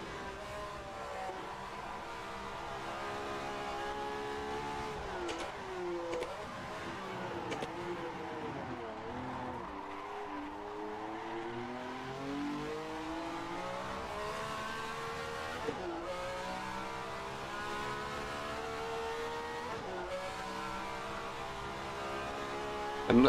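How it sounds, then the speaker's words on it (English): A Ferrari 312F1 engine in a racing video game screams at high revs without pause, its pitch rising and dipping through gear changes and corners, loud and constant throughout. "It might be that the engine doesn't take these very high revs all of the time for a full race distance"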